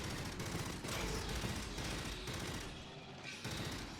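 Continuous rapid gunfire from weapons in the co-op shooter Aliens: Fireteam Elite, dense and steady for several seconds, with layered bursts and game effects and no voices.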